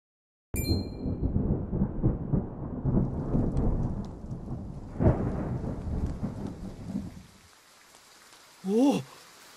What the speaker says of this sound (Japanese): 雨だぞ。 本当に降ってきた。